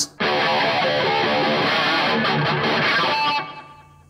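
A distorted electric guitar rings out a harmonic held just past the second fret, a dense, sustained tone with chorus-like shimmer that holds steadily for about three seconds before fading out, heard alone.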